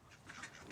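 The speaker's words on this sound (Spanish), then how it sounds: "Tengo 42 patos." Ducks quacking on a farm holding 42 ducks, a brief burst of faint, slightly distant quacks lasting under a second.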